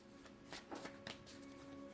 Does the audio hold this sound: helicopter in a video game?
no